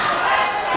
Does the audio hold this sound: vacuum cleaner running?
no